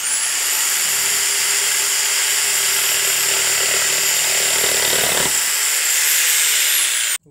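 Crown CT15189 electric jigsaw running at speed setting 2 while cutting wood, a loud steady high-pitched motor whine with the blade's rapid buzzing throughout, stopping abruptly at the end.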